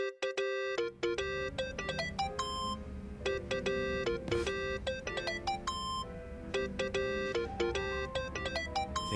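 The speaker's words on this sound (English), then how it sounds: "Think that's your phone, man." A mobile phone rings in Yakuza: Like a Dragon, a melodic electronic ringtone repeating its bright tonal phrase over and over for the whole stretch, loud and close over a low background hum, with no voices.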